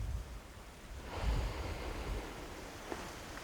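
Sea waves wash onto a beach with a swelling surf roar, blended with steady wind rushing across the microphone.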